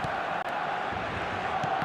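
Steady stadium crowd roar from an eFootball match, a dense continuous wash of massed voices holding at an even, moderately loud level throughout.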